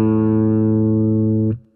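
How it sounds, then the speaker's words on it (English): A guitar's open A string rings out as one sustained plucked note with rich overtones, loud and close, holding steady and then damped abruptly near the end. "If you play an open string like an A,"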